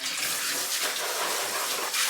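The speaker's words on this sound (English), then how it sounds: "Now I'm going to spritz it with water." Close water spritzing from a spray bottle onto air-fried curry potatoes, a steady hissing spray lasting about two seconds with a brief break near the end, heard alone with no talking.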